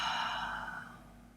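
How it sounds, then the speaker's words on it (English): A single deep, slow exhale during a quiet meditation practice, soft and close, fading gradually into silence with no talking. "Let's take one more deep breath in"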